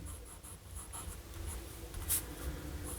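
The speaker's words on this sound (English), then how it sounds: "we're just going to do a writing sample with this one" A Pilot Kakuno fountain pen with a fine nib scratches faintly across paper in short strokes, quiet and close, with no voices.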